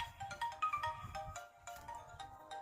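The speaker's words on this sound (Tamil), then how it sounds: "ஃபோன் கால் வந்து" A melodic phone ringtone for an incoming call plays as a looping series of bright electronic tones, close and clear, with no voices.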